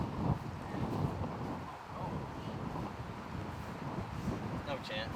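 Gusty wind buffets the microphone on an outdoor disc golf course, a steady low rumble with rises and falls, and faint voices and a few distant tones come through underneath.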